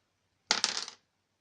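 Dice rolled for a turn of the Raid on St. Nazaire board wargame give a brief, close clatter of several quick bounces over about half a second before settling into silence.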